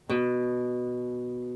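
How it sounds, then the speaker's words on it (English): A single plucked guitar note, B on the second fret of the A string, rings out clearly and sustains, slowly fading, with no other sound around it. "Next, we're going to play the note B,"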